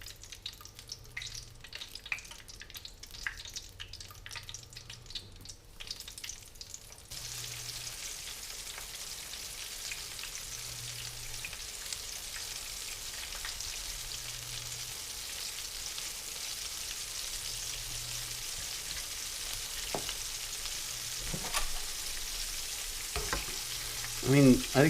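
Breaded flounder, sole and salmon fillets frying in oil heated to about 300 to 350 degrees, a steady hissing sizzle that runs for the whole stretch, with faint clatter and knocks from the pan near the end.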